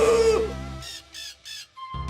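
Cartoon little bird giving three short, bright squawking calls in quick succession, clear and close, framed by the tail of music at the start and a tone returning at the end.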